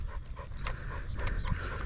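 Wally the dog pants rapidly and rhythmically close by, quick breathy huffs repeating over a couple of seconds with no talking.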